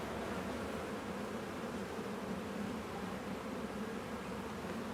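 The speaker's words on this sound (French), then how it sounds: "Il y a des abeilles recto verso" Honeybees on a hive frame at an autumn hive inspection make a dense, steady buzz that stays even and moderately close for the whole stretch, with no voices over it.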